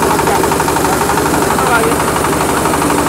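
A MAKTANI MT212 rice milling machine running in Kulon Progo, giving a loud, steady mechanical drone with a rapid rattling vibration, as someone speaks briefly over it.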